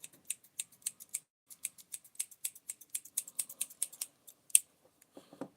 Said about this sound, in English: We're just going to cut the cord right here.